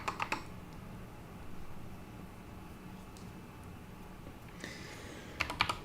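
Typing on a computer keyboard during a live programming session, with clusters of quick key clicks at the start and end over a faint, steady background hiss.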